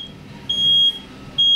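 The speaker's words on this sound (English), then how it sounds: "upon hearing the smoke detector from the room being activated" A smoke detector alarm in a room emits loud, piercing electronic beeps, two long tones separated by a short gap, with a faint background hum.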